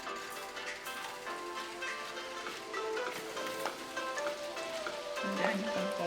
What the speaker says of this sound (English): we're going to go ahead and fry the shrimp